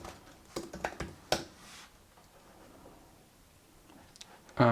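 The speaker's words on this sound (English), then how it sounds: "So I'll go to terminal and just type .NET run." A few quick keystrokes on a computer keyboard as a short terminal command is entered, clustered clicks near the start, then a quiet pause and one louder tap at the end.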